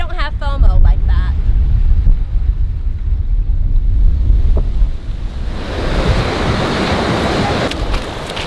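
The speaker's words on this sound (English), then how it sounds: "it's a little windy, so I'm not really sure how much you're going to be able to hear" Strong wind buffets the microphone on the Sri Lankan coast at Mirissa, a loud continuous roar with surf washing in underneath, growing brighter and hissier toward the end.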